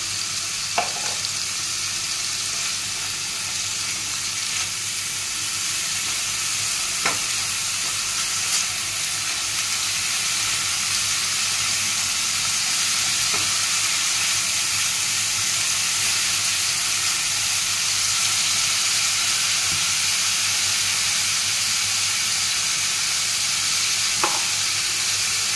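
Spice masala with turmeric and sugar is stir-fried in oil in a pan, giving a steady, loud, continuous sizzle with faint scrapes of stirring at intervals and no talking.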